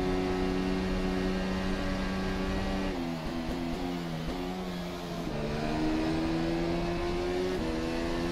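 A Formula SimRacing FSR 2018 development race car in rFactor 2, lapping Monza with its engine turned up, gives a steady loud engine drone whose pitch climbs and drops through several gear shifts, with no talking.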